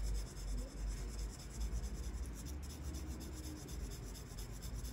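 Steady scratchy rasp of pencil shading across drawing paper while a cylinder is filled in by hand, close and continuous with quick back-and-forth strokes and no speech.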